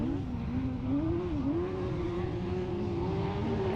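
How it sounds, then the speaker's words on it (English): A rallycross car races hard, its engine a loud, steady rasping drone that wavers in pitch, with a faint tyre squeal mixed in and no talking. "Squeal of tyres."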